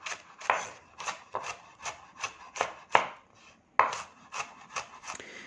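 A knife chops fresh spring onion on a board in quick, even strokes, about a dozen sharp close knocks with one brief pause midway and no voices.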